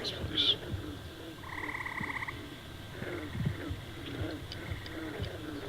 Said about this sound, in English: It's a brave frog like my friends.